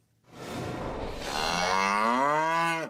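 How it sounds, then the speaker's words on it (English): A red heifer at ancient Shiloh in Israel gives one long, loud, close moo that rises and holds before fading, with no talking alongside. "today, those cows are in ancient Shiloh"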